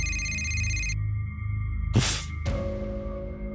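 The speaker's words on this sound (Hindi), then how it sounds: "उसके मोबाइल की रिंग बजने लगी" A mobile phone rings with steady electronic tones that shift pitch partway through, broken by a short burst of hiss before a ringing tone resumes and slowly fades, heard alone and close.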